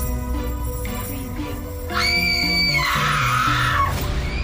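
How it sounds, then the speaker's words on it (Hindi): A woman's loud, shrill scream rises and wavers over a sustained musical backdrop, lasting a couple of seconds before trailing off in a Hindi horror story. "और माया चिल्लाने लगी"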